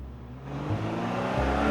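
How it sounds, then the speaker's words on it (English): A car starts and reverses with a low engine rumble that builds steadily and stays close and loud, with no voices over it. "She starts the car and puts it in reverse."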